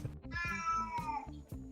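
A hungry cat named Frederico meows nearby in a long, drawn-out wavering call, with a few short low thuds and knocks underneath and no talking.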